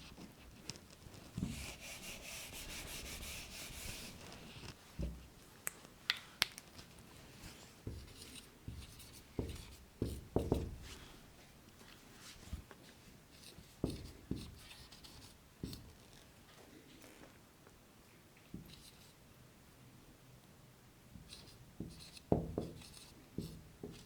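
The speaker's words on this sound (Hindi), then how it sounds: "कथन लिखता हूँ मैं" A pen or pencil writes statements by hand on paper, with short scratchy strokes and pauses in an irregular rhythm, heard close up and quiet.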